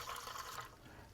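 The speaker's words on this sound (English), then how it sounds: "I'm going to just go to the sink and put in 1/4 cup of water." Water running from a kitchen sink tap into a measuring cup, a soft splashing flow that fades after about half a second, faint and close.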